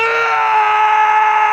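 A person lets out a loud, sustained yell at close range, one continuous strained tone lasting the whole moment.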